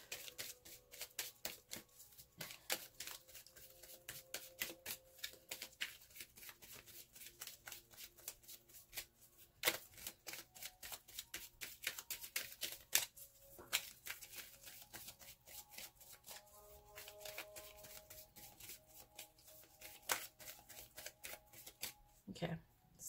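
Kuan Yin Oracle cards shuffled by hand in a steady run of crisp riffling flicks and slaps for over twenty seconds, close and fairly quiet, with a faint hum underneath.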